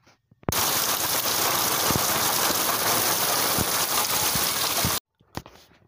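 Heavy monsoon rain pours down on a village in July as a dense, steady roar of drops that starts abruptly and cuts off sharply, with a few louder splashes in the continuous downpour.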